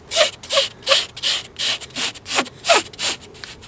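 A pocket knife blade held at 90 degrees scrapes rhythmically across a surface to make fire, about a dozen harsh rasping strokes in a steady back-and-forth, close and clear.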